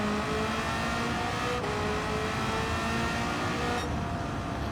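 A TVR fitted with a 1000hp LT5 V8 in Gran Turismo 7 roars under hard acceleration, a loud continuous engine howl rising in pitch with quick gear shifts breaking the climb.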